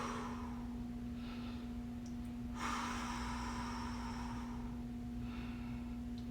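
Slow, deep breaths during a hamstring stretch: a long, audible exhale swells in the middle, with softer inhales and exhales before and after over a steady low hum.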